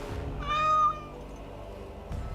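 A cat named Sir Pounce-a-Lot meows once in the video game Dragon Age Awakening, a short rising-and-falling tonal call that stands out clearly over a quiet background, followed by a brief soft noise.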